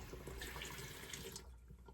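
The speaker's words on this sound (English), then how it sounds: "I'm going to go ahead and run some warm water in here." Warm water runs steadily from a tap into a shaving lather bowl, a loud continuous rushing splash that eases off near the end, with no voices.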